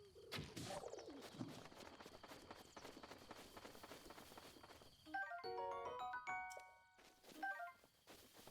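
Bird calls in the video game Zelda: Breath of the Wild, cooing tones and short chirps over game ambience and footsteps, followed by a bright chiming jingle midway through.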